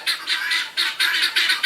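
Guinea fowl on an off-grid homestead give a rapid series of harsh, rasping squawks, about six loud, close bursts in an uneven rhythm with no talking.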